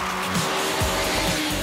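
Chevrolet touring cars race around a street circuit, engines roaring loud and close with tire squeal and skidding as several cars sweep past in quick succession.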